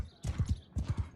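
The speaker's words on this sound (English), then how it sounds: "this horse is like freakishly fast" A horse galloping in Mount & Blade II: Bannerlord, two quick bursts of rhythmic hoofbeats, close and fairly loud.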